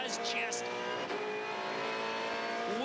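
A V8 Supercar at the Australian Grand Prix, its engine revving hard while the tyres squeal for grip, with rising whines and high screeches near the start and end, under steady commentary.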